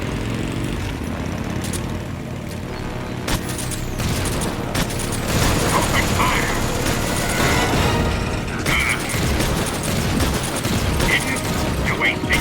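Sustained gunfire bursts and explosions in the stealth action game Metal Gear Solid 3: Subsistence on PS2, loud and dense over a continuous rumbling backdrop, with a voice briefly speaking amid the shooting.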